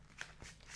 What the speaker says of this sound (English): I'm going to shuffle out these cards first